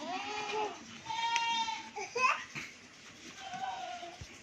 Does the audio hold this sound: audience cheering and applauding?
no